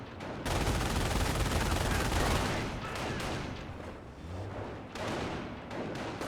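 Company of Heroes battle in which a squad comes under fire: a dense, loud barrage of mixed rifle and machine-gun shots with rumbling blasts, continuous throughout and easing slightly toward the end.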